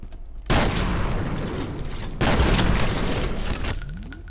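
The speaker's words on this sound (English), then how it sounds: "I love this shotgun" Two heavy shotgun blasts in the game F.E.A.R., each a sudden loud boom followed by a long rumbling decay, with a faint mechanical click near the end.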